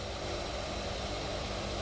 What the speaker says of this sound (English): You hear those jets there tailing you.